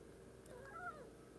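A three-legged fat black cat named Galaxy lets out one short, faint meow with a rising, then falling pitch against a quiet room hum.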